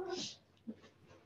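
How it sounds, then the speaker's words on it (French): A pet cat's short meow, close and soft, a single brief cry followed by faint breathy sounds. "Désolée, ça c'est mon chat."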